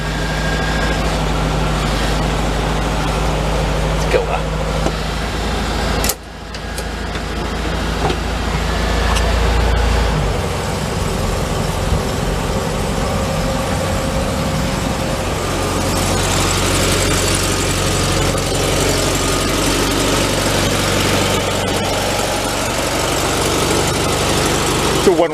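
A Volkswagen Thing, a car that won't go over 30, sits running with a steady low idle. The engine revs as the clutch is worked, loud and close, with people talking over it throughout.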